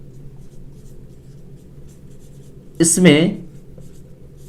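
Someone writes by hand during a Class 10 maths lesson on trigonometry. The faint scratching of the pen continues throughout, and a brief word is spoken partway through.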